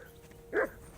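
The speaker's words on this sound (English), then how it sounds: "that barking's driving me nuts. Can you get your dog to shut its beak?" A single dog bark in the video game Kingdom Come: Deliverance II, one short, fairly loud yelp standing alone over a quiet ambient background.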